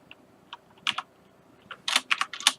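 A computer keyboard is typed on at close range: scattered single key clicks at first, then a quick burst of several crisp keystrokes, with no voices.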